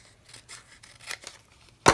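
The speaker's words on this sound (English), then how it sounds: "I needed to cut this one off" Scissors snip through a paper tab on a small craft treat bag, a few soft close rubbing cuts followed by one louder, sharper snip at the end.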